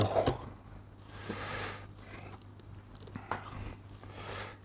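Someone bites into a hot, jiggly smoked beef rib with a crisp membrane and smoke ring, cooked on a Fornetto Basso smoker, giving a close crunch followed by soft chewing and mouth noises, with no talking.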